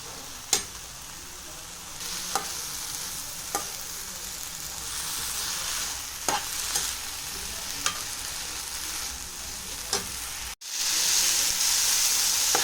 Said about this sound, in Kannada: ಸೇರಿಸ್ಕೊಂಡು ಇದನ್ನು ಚೆನ್ನಾಗಿ ಸಾಫ್ಟ್ ಆಗೋವರೆಗೂ ಚೆನ್ನಾಗಿ ಹುರ್ಕೋಬೇಕು.